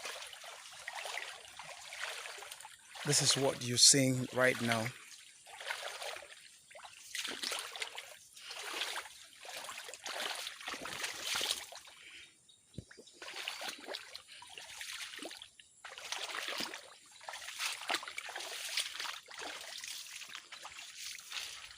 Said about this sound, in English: crossing of streams